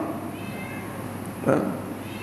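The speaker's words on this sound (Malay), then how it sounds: "pasal ada bunyi kucing ni" A single short cat meow sounds inside a mosque, moderately close, over a steady hum of room noise.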